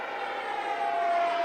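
A radio-controlled model jet flying past at speed, a steady, fairly loud turbine whine holding through the pass with a faint rising tone and no voices over it.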